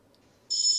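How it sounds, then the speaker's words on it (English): A rotary telephone bell starts abruptly after a half-second of near silence, ringing loud and sustained with a bright metallic trill that continues to the end. "Cloki's got like some sort of rotary phone or something in his kitchen."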